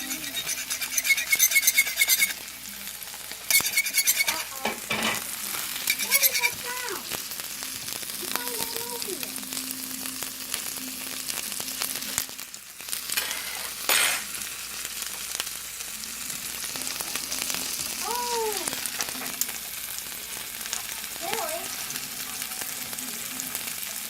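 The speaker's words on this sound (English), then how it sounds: "I was scratching the pan with the" A fork scratches and scrapes across a Gotham Steel nonstick pan in repeated strokes over steady sizzling, with a few squeaky tonal squeals rising above the scraping.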